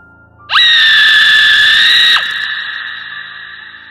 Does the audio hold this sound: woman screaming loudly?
yes